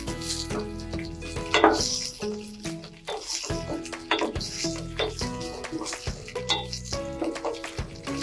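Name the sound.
onion sautéing in pan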